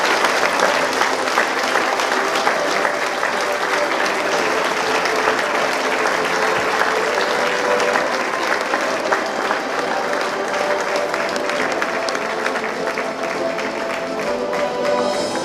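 A school crowd at an end-of-year ceremony claps steadily and fairly loudly for a seventh-grade student athlete, a dense, even wash of applause that holds throughout.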